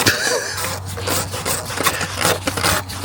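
An oil filter housing cap on a BMW 435d is screwed in by hand, giving a continuous close rubbing, grinding scrape with small uneven surges over about three seconds.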